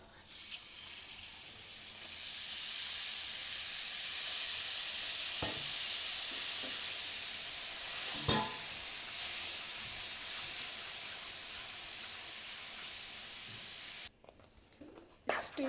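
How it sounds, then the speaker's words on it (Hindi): Buttermilk is stirred into maida halwa cooking in hot ghee, giving a steady, soft sizzle and hiss with a few scraping stir strokes, then a brief quiet near the end. "इस स्टेज पे हमने इसको अच्छी तरह मिक्स करना है ताकि इसकी गुठलियाँ ना बने।"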